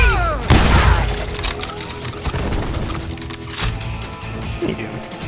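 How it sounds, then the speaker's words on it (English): Gunfire erupts in a street shootout in Call of Juarez: Gunslinger, a loud burst of shots and booms at the start followed by scattered reports over a continuous noisy backdrop, with some voice mixed in. "They're shooting in the street!"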